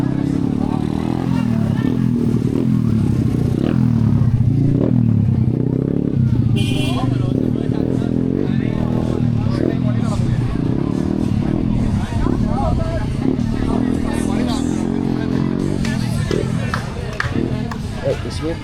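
Motorcycles at bike week in Varadero, Cuba, a steady loud rumble of idling and passing bikes mixed with crowd chatter and people talking nearby.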